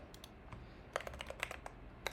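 Sparse, quick clicks of typing on a mechanical-sounding computer keyboard, close and quiet, arriving in short irregular bursts with brief pauses between keystrokes.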